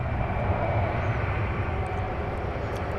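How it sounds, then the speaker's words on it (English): An American Airlines Airbus A319 rumbles steadily at an airport at night, a broad continuous jet roar with heavy low-end drone, held at constant loudness for the full three seconds. "Here, I believe we are seeing an American Airlines Airbus A319."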